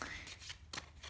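Tarot cards are shuffled by hand in a quiet room, giving soft papery riffling bursts in a quick irregular rhythm, close and fairly faint.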